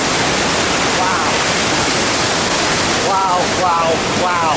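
Dettifoss, a massive waterfall in Iceland, roars loudly and continuously from up close in a dense wall of rushing water, with faint voices breaking through near the end.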